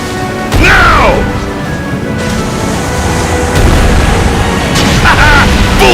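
Ship cannons fire in Ys X: Nordica, loud booming blasts over constant roaring sea and battle noise, with whooshing projectiles near the start and end.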